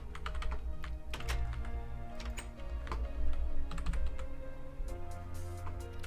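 Rapid typing on a computer keyboard, close and clear, with uneven bursts of key clicks and occasional heavier thunks over a low steady background hum.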